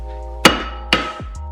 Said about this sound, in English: we're gonna go ahead and use Thor's hammer to try to free up all this rust